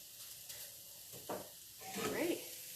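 Onions and mixed vegetables sizzle with eggs on a stovetop, a soft steady frying hiss broken by a few louder stirring scrapes and clinks.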